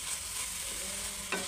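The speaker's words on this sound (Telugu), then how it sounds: "ఇంకా కొంచెం నెయ్యి వేసుకొని ఇంకోసారి అయితే కలుపుకుందాం" Carrot halwa with ghee being stirred in a pan, a brief close sizzle with a soft scrape of the spoon near the end.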